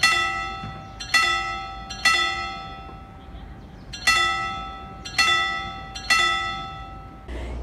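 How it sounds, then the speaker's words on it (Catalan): A church bell of Sant Sebastià in Sitges rings with loud, ringing metallic strikes about once a second in uneven groups, each note decaying into a long hum, heard close and with no talking over it. "Aquesta campana, unes cosines meves les van regalar perquè el seu pare es deia Sebastià."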